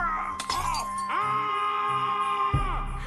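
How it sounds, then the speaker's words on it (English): Glass ornaments shattering underfoot in a trap-filled house, a burst of breaking glass mixed with a long wailing, moaning voice over dramatic tones. "a floor covered in glass ornaments, each one exploding under his weight"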